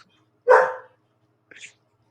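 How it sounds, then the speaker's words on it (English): An agitated pet dog lets out a single sharp bark, followed a second later by a faint, higher yip, both fairly close in an otherwise quiet room. "Andrew's dog's going ape shit"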